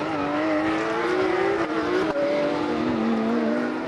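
Porsche Carrera Cup race cars powering out of the hairpin at Knockhill, a loud, close engine wail rising through the gears with brief shift dips, several cars blending into one continuous roar.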